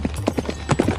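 A horse gallops hard, a steady quick clatter of hoofbeats at close range with no voices.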